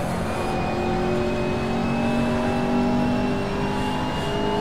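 A McLaren MP4-12C GT3 race car engine heard from an external view in a racing video game, holding a steady, loud drone with gently rising pitch and no talk.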